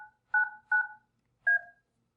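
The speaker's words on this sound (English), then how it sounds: "I'm just going to dial our conference bridge here" A Yealink CP960 conference phone keypad sounds four dual-tone dialing beeps, three in quick succession and one after a short pause, clear and alone in a quiet room.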